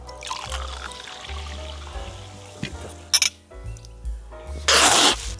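Sparkling water, German Sprudelwasser, is poured into a glass with a soft trickle, a brief clink, then a loud fizzing rush of bubbles near the end, over low background hum.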